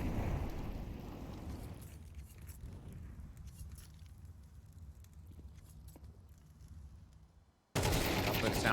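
AK and Desert Eagle fire in Counter-Strike 2 during an esports match, heard as scattered crackling shots over a low rumble, then a sudden loud burst of dense gunfire at the end.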